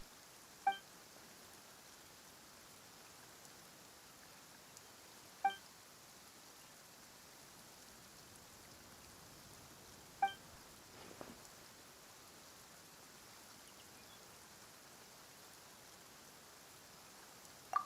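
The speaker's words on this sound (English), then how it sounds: "is it raining all of a sudden?" Soft, steady rain in Genshin Impact patters faintly throughout, punctuated by a few short electronic chime-like blips spaced several seconds apart, with no voices.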